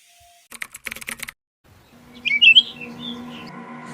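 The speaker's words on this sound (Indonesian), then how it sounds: "Ada burung di ruangan sini." Bird chirps ring out indoors in a room at night, a cluster of bright calls rising over a low steady hum after a burst of sharp clicking taps.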